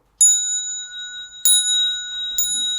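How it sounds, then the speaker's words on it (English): A bright, ringing bell is struck three times with clear pauses between strikes, each tone sustaining and slowly decaying, close and alone in a quiet room. "I'm going to ring the bell 3 times"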